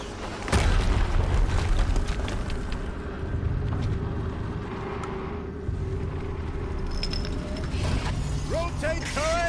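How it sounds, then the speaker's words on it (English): A turret-rotating mechanism in Horizon Zero Dawn grinds and ratchets with creaking metal, heard loud and near after a deep boom, over a continuous low game rumble. "Rotate turret!"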